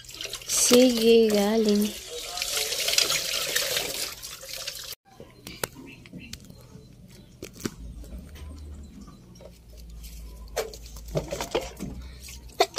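Tap water runs and splashes while dishes are rinsed at a sink, a steady patter that stops partway through and is followed by quieter clinks and handling noises, with people talking.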